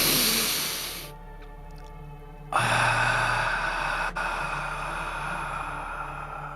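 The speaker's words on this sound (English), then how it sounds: "Nice deep breath in through the nose" A calm, deep breath drawn in through the nose during a guided breathing session, a soft, airy inhale lasting a couple of seconds before a steady hiss of exhaled air and background ambience.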